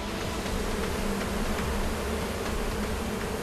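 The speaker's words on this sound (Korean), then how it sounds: "갑작스런 연기에 놀란 벌떼의 습격" A swarm of honeybees, startled by sudden smoke, attacks in a dense, continuous buzzing drone that stays loud and close throughout, with no voices.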